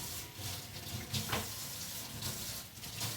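Water runs steadily from a tap while greens are washed in a pot, a constant splashing wash of sound, fairly quiet and close, with no talking.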